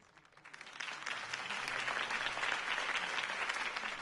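A crowd bursts into applause after a campaign speech in a Batman video game, the clapping swelling in from quiet to a steady, dense roar that holds to the end.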